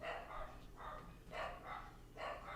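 Dogs barking: four distinct barks at a steady pace, moderately distant and faint, with no talk over them.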